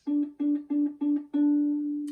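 A single ukulele C string fretted at the second fret, plucked five times in a steady rhythm, the last note left ringing out; close and clear with no talking.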